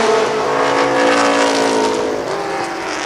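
NAMARS midget race cars roar around the Columbus Motor Speedway oval, their engines blaring loud and steady with overlapping buzzing tones as the pack runs close by.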